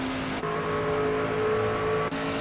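A race car engine in the NASCAR 25 game drones at high revs, with a brief dip as the throttle eases then returns, in two short lifts under steady engine noise.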